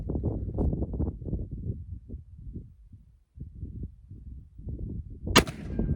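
A Pietta 1860 Army revolver loaded with a military-style paper cartridge fires a single sharp, loud crack near the end, after someone talks for several seconds.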